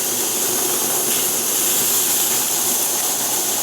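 An MSR Whisperlite liquid-fuel stove burns with a steady, loud, roaring hiss that holds constant with no break or sputter, the fuel canister turned upside down.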